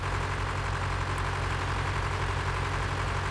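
Tractor engine idling in the Farming Simulator 2013 video game, a steady low rumble that holds even and unbroken throughout, with no voices over it.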